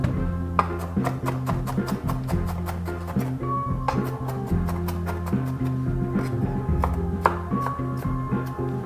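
Rapid, steady knife chopping on a cutting board as onions are cut while cooking pasta, with dozens of crisp evenly spaced strokes over a loud continuous hum of kitchen or background sound.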